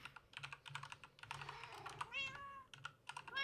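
Several cats spawned in the Minecraft video game meow in a run of high, rising and falling calls, close and clear, with rapid key clicks tapping steadily underneath.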